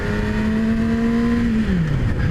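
A 2017 Yamaha R6 motorcycle engine revs loudly and steadily past 6,000 rpm, holding a high droning tone before dropping in pitch near the end as the throttle eases.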